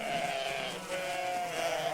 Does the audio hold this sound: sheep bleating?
yes